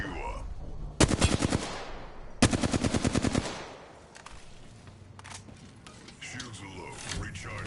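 In the video game Apex Legends, two loud bursts of rapid automatic gunfire rattle off one after another, each lasting about a second, with quieter mechanical clicks and game ambience between and after them.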